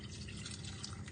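Roughly a quarter pint of milk trickling into a pot of potato and leek soup, a soft continuous liquid pour, faint and close.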